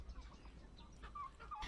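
Ornamental turkeys gobbling at a farm, a few quick warbling calls in the second half over a faint noisy background, moderately distant and quiet.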